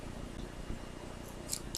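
Scissors handled at a crochet table alongside red yarn, giving a couple of faint, brief metallic clicks and snips near the end over a soft room background.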